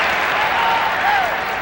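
A lacrosse crowd at a 1990 Syracuse versus North Carolina game applauds and cheers a defensive play, a steady dense roar with an announcer talking over it.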